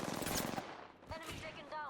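Rapid gunfire crackles in the Apex Legends game, a dense burst of shots followed by a few sharper cracks, with speech mixed in.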